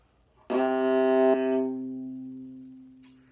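A single low, sustained bowed note on a viola's open C string rings out with rich overtones, then slowly fades; a faint click near the end.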